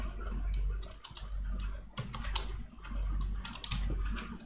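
Steady, close typing on a computer keyboard, with quick irregular key clicks in short bursts over a low electrical hum and no speech.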